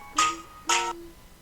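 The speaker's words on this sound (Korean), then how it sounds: "이거는 원래 가는 벨소리예요" Two short electronic ringback tones sound while a phone call is placed, evenly spaced bursts with a pause between them, clear and fairly quiet, with no talking.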